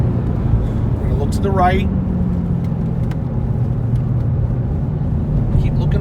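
Car engine accelerating out of a corner on a mountain road during a spring ride-along, a steady loud rumble with rising revs, with an instructor talking over it throughout.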